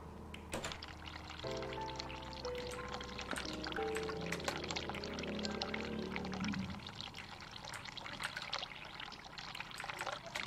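Cold water pours steadily from a tap in the horror game The Cat Lady, a continuous gurgling stream at moderate loudness that changes tone partway through, with no talk over it.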